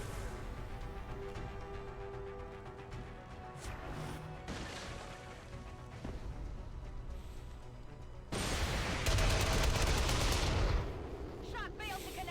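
Gunfire in XCOM 2 plays as a dense, continuous layer of shots and impacts under game music, swelling to a loud burst of heavy fire near the end.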